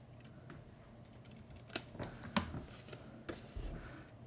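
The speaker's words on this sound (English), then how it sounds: "the last thing we're gonna do is just do a little miter cut here on this little 1/2 inch section" Scissors snip through paper for a small miter cut on a half-inch section of a mini gift pouch, a few soft, close crisp cuts in a quiet room.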